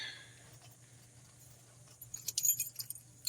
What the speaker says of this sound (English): I've got keys